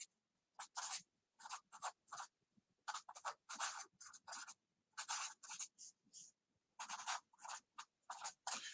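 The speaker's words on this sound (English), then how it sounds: "Let me write these out." A pen scratches across paper in quick, close, fairly quiet bursts of strokes and short pauses, as slide notes are written out by hand.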